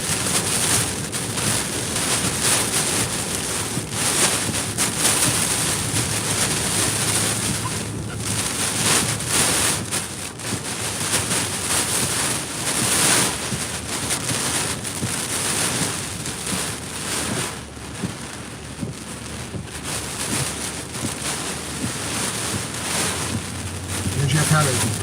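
Strong hurricane winds from Hurricane Milton roar without pause around Sarasota, Florida, in a dense, loud, buffeting rush with gusts and mic-battering noise throughout.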